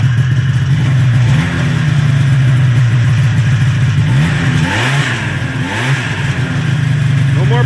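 A 1981 Arctic Cat Citation 4500 snowmobile engine, freshly fitted with cleaned points, new condensers and coils, runs loud and close at a steady idle, with a few blips of revving and no popping.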